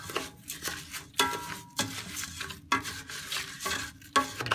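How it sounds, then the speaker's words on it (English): Rice frying in oil in a cooking pot for risotto, stirred by hand: a steady sizzle broken by repeated scraping strokes of a utensil against the pot every second or so, close and clear. "Put the rice in that oil."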